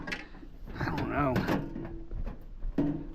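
Drawers sliding open and shut with knocks and scrapes, mixed in with nearby talking.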